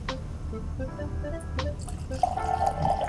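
Jack Daniel's Single Barrel whiskey pours into a glass up close, a short trickling splash after a few faint clinks and drips, in a quiet room.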